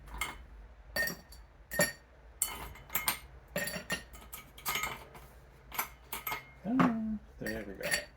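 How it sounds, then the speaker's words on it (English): Ice going into a stirring glass for a stirred whiskey cocktail, heard as a run of sharp, close clinks and rattles of cubes hitting glass in irregular bursts, with a short clattering flurry near the end. "filling up our stirring glass with some ice"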